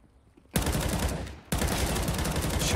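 In a Counter-Strike match at the Krakow PGL Major, gunfire erupts in two rapid, loud bursts, a short volley followed by a second sustained spray after a brief drop in intensity.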